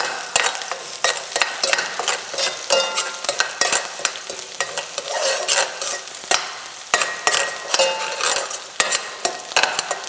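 Prawns frying in a hot pan, a steady loud sizzle with frequent rapid scrapes and knocks of a utensil stirring them, no voices.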